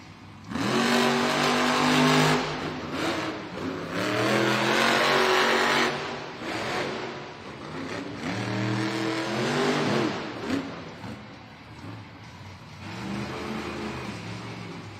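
Megalodon monster truck engine roaring in repeated loud revs in a Monster Jam arena in Duluth, Georgia, the surges rising and falling over roughly fifteen seconds against arena crowd noise.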